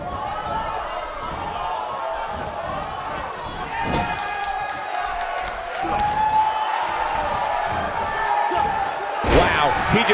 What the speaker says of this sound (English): Wow, he just slammed him with ease.